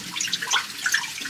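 Water runs and splashes while kimchi ingredients are washed outdoors, a brief close hiss of flowing water with bright dripping and sloshing, no talk.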